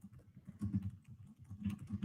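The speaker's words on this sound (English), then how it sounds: "Sorry if my keyboard is too loud" Close, moderately quiet computer keyboard typing in uneven bursts of keystrokes, with no voices.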